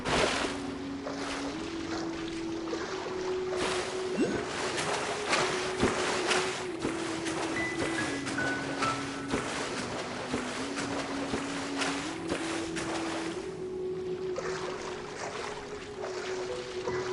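Boat engines drone and rev in the Genshin Impact video game, a steady motor hum with shifting pitch under splashing water and wind noise for about seventeen seconds.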